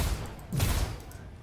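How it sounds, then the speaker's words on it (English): Spaceship guns in the video game Star Citizen fire in a short burst: a few muffled thumping shots at moderate loudness, a slow cadence and a brief blast in the middle. "The fire rate's not fantastic, but I'm guessing it's quite a high power weapon"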